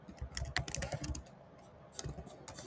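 Fingers typing on a computer keyboard in a series of quick, close clicking bursts with short pauses between them, no voices.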